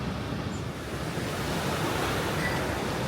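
Steady roar of ocean surf breaking on a quiet, rough-water beach in Bali, continuous and fairly loud with wind noise on the microphone and no voices.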